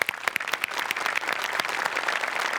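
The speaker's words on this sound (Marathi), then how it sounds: "एकदा जोरदार टाळ्या." An audience at a Marathi comedy show claps enthusiastically, a dense burst of applause that starts with a few sharp claps and swells into steady clapping.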